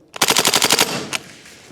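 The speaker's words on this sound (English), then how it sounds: "It's got a proper chugger rate of fire, this." A KWA Lithgow Arms F90 AUG gas blowback airsoft rifle firing a short full-auto burst of about eight rapid, loud, close cracks, then one more single shot after a pause.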